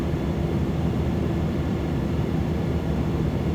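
Simulated Cessna 208B Caravan turboprop taxiing toward the runway in Microsoft Flight Simulator 2024, a continuous low engine drone with a steady hum and no change in pitch, holding at a constant level the whole time.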